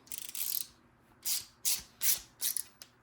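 Rapid ratcheting bursts from a hand ratchet tightening a nut on the brake pedal assembly of a 1969 Chevelle, one long stretch followed by four short separate pulls, close and crisp.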